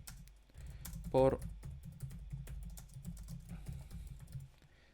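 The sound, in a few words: typing on a computer keyboard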